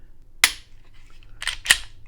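A Glock 43 pistol gives three sharp, dry mechanical clicks, one isolated and then a quick close pair, crisp and near with quiet between them.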